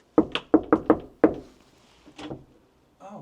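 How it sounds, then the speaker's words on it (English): Knuckles rap on an apartment door in a quick series of five hollow knocks, close and crisp, followed by a short stir of movement and a voice faintly beginning at the end. "Let's knock and find out."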